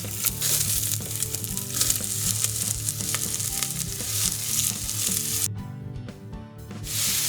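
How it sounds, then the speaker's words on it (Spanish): Onion sautéing in a little oil in a pot, a loud steady sizzle with scraping stirs throughout and a brief quieter moment near the end, with no talk. "Empezamos por rehogar la cebolla en un poco de aceite en una olla."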